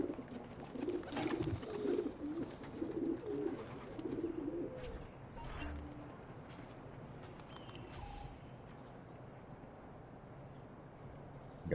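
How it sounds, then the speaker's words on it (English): Pigeons at a coop in Assassin's Creed II give soft, throaty cooing in repeated bursts over a steady ambient game bed, fading to quieter background noise partway through. "Looks like this is a pigeon coop"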